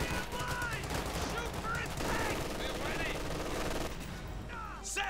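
MG42 machine gun in the Company of Heroes 2 strategy game, pinning down advancing paratroopers: rapid sustained bursts amid battle noise, with a commentator talking over them.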